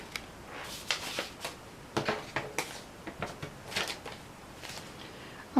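Knife or blade cutting through scored card panels of a chocolate box, a series of short, close scraping and slicing strokes at an irregular rhythm, with no talk.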